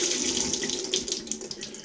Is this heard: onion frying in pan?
no